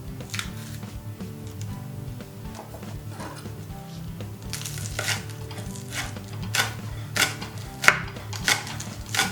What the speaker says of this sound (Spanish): Ahora picaremos el tallo de la cebolleta.